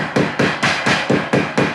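Formed sheet metal pieces for an HVAC plenum being hammered together, giving eight sharp, evenly spaced metallic blows in quick rhythm, close and loud, with no talking.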